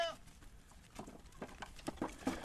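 Goats, including Sally and her grown kids, on a farm, with faint rustling and a few short soft bleats or snorts toward the end, fairly near but quiet.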